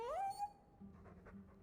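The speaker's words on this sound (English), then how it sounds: "Who's a good doggy? I like the doggy." Mabari war dog in the game Dragon Age 2 giving a brief whimpering pant, loud at first and then fading under a faint background murmur, with no one speaking over it.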